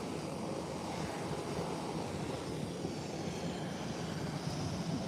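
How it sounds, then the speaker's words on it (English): Beechcraft 1900 turboprop sitting on the runway with engines running: a steady, broad roar with an even, unbroken drone that neither builds nor fades, heard at a distance, with no talking. "the Beechcraft 1900 has now taken a position on the runway"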